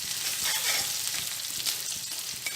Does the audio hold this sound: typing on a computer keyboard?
no